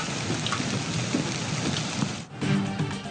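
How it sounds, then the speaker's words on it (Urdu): Torrential rain and hail pound down in Islamabad, a dense steady roar of drops with low rumbling thunder beneath, briefly dipping before surging back loud and close. "اسلام آباد میں موسلا دھار بارش اور یالہ باری"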